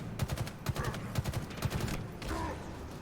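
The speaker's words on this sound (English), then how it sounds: "Love the battle rifle in Halo Infinite, by the way." Battle rifle gunfire in Halo Infinite: four tight three-round bursts crack out in a steady rhythm, loud and close, followed by a brief lull and a softer tonal game effect near the end.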